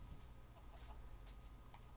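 Minecraft chickens clucking on a chicken farm in the video game, soft repeated clucks and bursts layered over a low rumble, faint and continuous across the stretch without talk.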